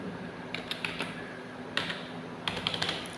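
Letters typed on a computer keyboard with Caps Lock toggled, a few sharp separate keystrokes in small clusters over a steady background hiss.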